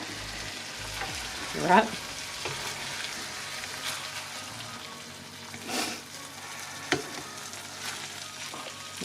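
Rice frying in a pan for a beef and rice dinner, stirred so it sizzles steadily with occasional scraping clinks of the utensil, close by, with a brief spoken word from a person.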